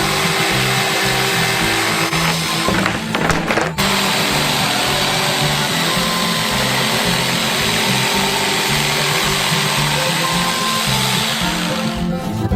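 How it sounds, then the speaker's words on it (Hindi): An electric saw cuts through a giant homemade Bounty bar block, a steady loud whine and grind running throughout with a brief dip midway. "एक इलेक्ट्रिक आरे के साथ इसे काट लेंगे।"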